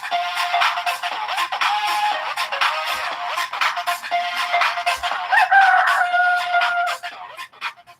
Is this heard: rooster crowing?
yes